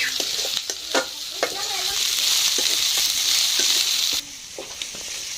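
Fresh leafy greens (shak) sizzling and frying in a pan, a loud steady hiss with repeated clattering stirs of a utensil, the sizzle dropping in level near the end.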